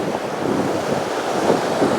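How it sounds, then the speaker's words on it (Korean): Strong sea waves surging against the shore at an Ulleungdo fishing spot, a steady loud roar of surf with wind buffeting the microphone, swelling slightly near the end. "왔다, 파도 세다"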